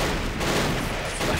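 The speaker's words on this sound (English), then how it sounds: "A huge amount of rifle noise now" Massed rifle fire in the World War II strategy game Men of War, a loud, dense, continuous crackle of overlapping shots with a deep rumbling undertone.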